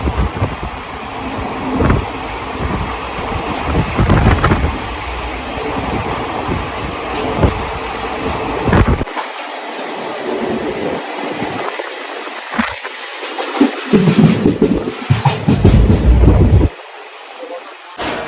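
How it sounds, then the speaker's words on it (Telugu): Train at Kurnool railway station in India, a steady loud rumble of rolling rail cars with low mechanical drone and brief clattering, with voices talking over it. "సో ఇది కర్నూలు స్టేషన్."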